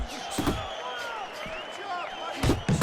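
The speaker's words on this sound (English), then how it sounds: "And now they're trading blows." Punches land in a trade of blows in the boxing video game Fight Night Champion: several heavy thuds, with two clustered near the end, over steady crowd noise and talk.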